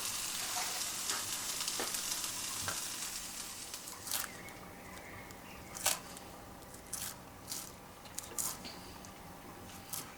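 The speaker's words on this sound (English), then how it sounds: "saute your mushrooms and your asparagus for about 2 to 3 minutes, just very quickly" Mushrooms and asparagus sauté in a hot pan with a steady, close sizzle, broken by occasional scraping stirs and clinks, with no one speaking.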